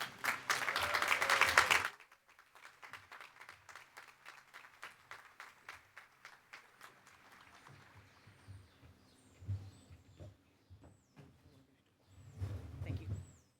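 An audience applauds as a speaker is welcomed to the stage at Harvard Law School's Class Day, a loud burst of clapping that stops abruptly after two seconds, followed by faint scattered sounds and chirps.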